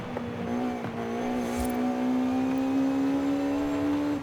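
Race car in Forza Horizon 5 accelerating hard, its engine note climbing steadily in pitch with a sustained whining tone and a brief tire chirp, loud and close with no talk.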